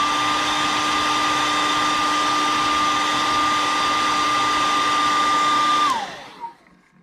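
A hair dryer blows on a freshly painted fishing lure, a loud steady whirring whine that runs for about six seconds and then winds down and stops.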